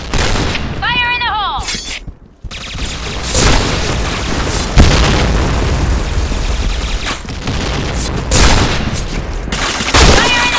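Grenades and gunfire in the shooter Point Blank: repeated heavy booms and rattling bursts of shots with shattering debris, loud and dense throughout, under shouted game voice lines.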